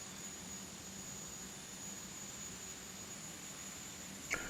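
Steady jet airliner engine roar during take-off in a flight simulator game, a constant broadband rumble with a high whine held throughout and a brief sharper click near the end.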